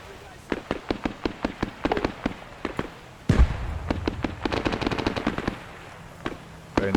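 Rapid machine-gun bursts and scattered gunshots from infantry firing out of a tree line in a military video game battle, with a heavy boom midway followed by dense overlapping fire, while a voice talks over it.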